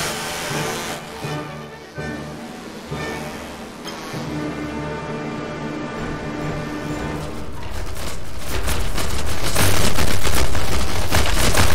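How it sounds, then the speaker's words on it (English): A guided chainsaw missile with small side thrusters launches at a target in a video game, producing a loud, sustained roaring hiss and crackle that swells steadily over about twelve seconds. "The guided chainsaw missile."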